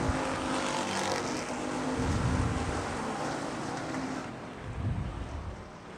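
Non-wing sprint cars roar off the start at a dirt race track, a broad engine drone with wind noise rising and swelling as the pack passes, with no talk.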